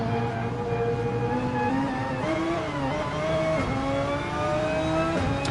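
A damaged Porsche race car accelerates out of a corner at the Nürburgring 24-hour race, its engine climbing through rising revs with gear shifts, loud and close, alongside other racing engines.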